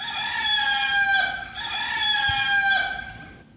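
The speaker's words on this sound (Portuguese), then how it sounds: "cantou o galo" A rooster crows loudly and close by in two long, drawn-out calls, each rising then falling away, with no voices over it.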